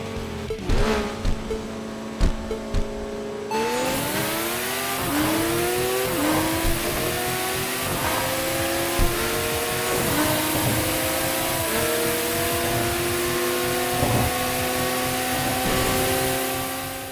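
A Toyota Supra and rival cars such as an LFA race in Tokyo Xtreme Racer, engines revving loudly and continuously with rising and falling pitch through gear shifts, close and sustained.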